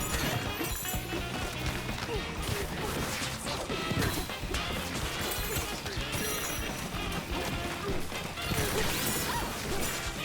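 Thorns are repeatedly smashed in a Donkey Kong game, with dense, continuous crashing and whacking impacts that fill the clip at a loud, busy level alongside game music and effects.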